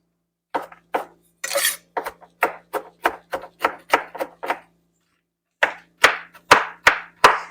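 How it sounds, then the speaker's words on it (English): Macadamia nuts are whacked in half on a hard kitchen surface: a run of about fourteen sharp, close knocks in an uneven rhythm, a brief pause, then four more firm strikes, with no talk. "There's a few of them still that need to be like whacked in half maybe."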